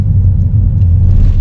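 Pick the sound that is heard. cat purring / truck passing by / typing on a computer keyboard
truck passing by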